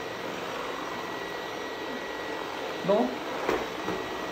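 A vacuum cleaner runs in a steady, whining drone while it tries to suck up scattered pepper, with a brief spoken word and a couple of short bumps partway through.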